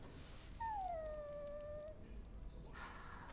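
A dog in the fantasy game Dragon Age: Origins gives a long, clear rising-then-falling whine, close and alone over a quiet ambient bed, followed by a short soft rustle.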